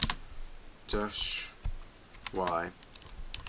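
Keys clatter on a computer keyboard as a pkg install command is entered on a FreeBSD system, with short bursts of clicks between brief spoken words close to the microphone.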